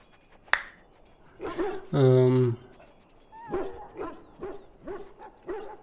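A wounded dog in Dragon Age: Origins gives a sharp yelp, then a drawn-out whine, then a run of short yips and whimpers, close and fairly quiet.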